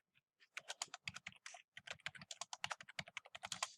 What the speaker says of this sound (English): then I can type in whatever I'd like my title to be